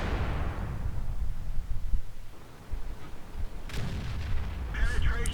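Tank gun shots in World of Tanks, heavy booming cannon fire with rumbling low tails, a couple of big blasts spread over a few seconds amid battle noise and faint game sounds.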